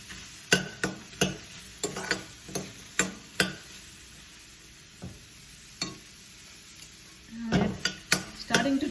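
Eggplant roasting in a dry pan with no oil, with a faint steady sizzle beneath repeated sharp scrapes and taps of a utensil stirring against the pan at an uneven rhythm.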